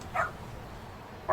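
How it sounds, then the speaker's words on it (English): A dog in the video game Yakuza Kiwami 2 gives two short, high barks, one near the start and one at the end, separated by a quiet pause. "Bark, bark."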